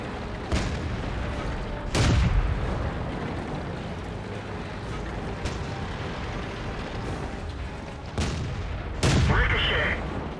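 Heavy tank cannon blasts in a World of Tanks battle: two loud booming shots near 2 and 9 seconds with lighter reports between, ending in a ringing ricochet whine over a constant rumble of combat noise.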